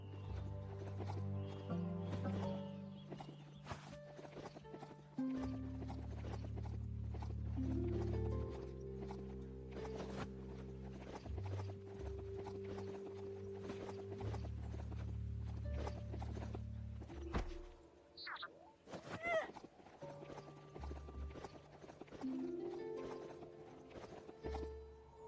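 Steady clip-clop hoofbeats from a ridden mount beast in the game Biomutant, rhythmic and continuous over a droning musical bed, with an occasional whinny-like call near the end.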